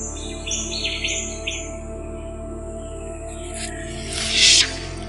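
Stone curlew calls in an Australian forest, high chirping notes repeated over a steady insect drone, with a brief louder burst near the end and no voices.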